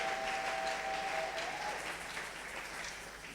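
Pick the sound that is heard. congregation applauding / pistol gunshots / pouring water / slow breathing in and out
congregation applauding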